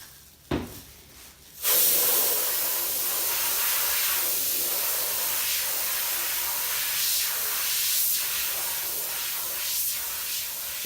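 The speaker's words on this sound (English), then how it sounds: "Compressed air is ready" Compressed air hisses steadily and loudly after a short click, a broad continuous rush lasting several seconds while a balloon is squeezed smaller, with slight swells in strength.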